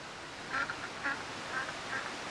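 Four short duck quacks from Rollercoaster Tycoon 3, evenly spaced over a steady ambient game background, fairly faint.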